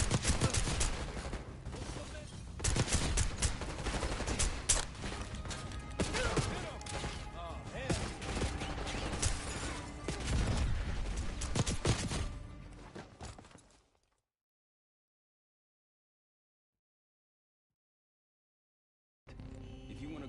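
Sustained video game gunfire with rapid overlapping shots and bursts, loud and busy for about thirteen seconds before cutting to silence, then resuming faintly at the end.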